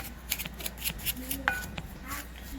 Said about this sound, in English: Now I'm gonna mix the dry ingredients.